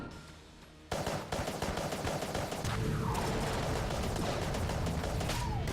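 Dense, rapid gunfire from the Enter the Gungeon video game, a continuous loud barrage of shots and bullet impacts that starts abruptly and keeps going, with layered game effects and no talking.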